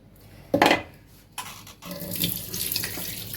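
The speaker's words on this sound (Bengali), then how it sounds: "এই যে মাছটা আমি ধুয়ে রেডি করে রাখছি" Tap water runs into a sink while fish is washed by hand, with a loud splashing burst early, then steady flowing water, sloshing and light clinks of dishes nearby.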